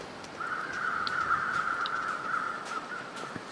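Crows caw in the snowy wilderness of The Long Dark, a harsh drawn-out call held for a couple of seconds with a few faint clicks around it, moderately loud over a quiet background, no talking.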